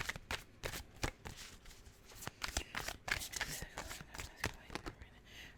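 Cosmic Slumber tarot cards being shuffled by hand, a steady run of crisp papery riffles and slaps repeating close and clear throughout, with no talking.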